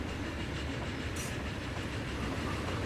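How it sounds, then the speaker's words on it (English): Steam train running in the video game Transport Fever 2, a continuous rumbling rail roll with faint clickety-clack and a brief hiss, steady and fairly loud throughout. "So they still get a steam train."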